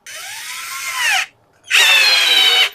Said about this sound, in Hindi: तो यहाँ पे हमारे पास JPT की ये 21 वोल्ट की ड्रिल मशीन है।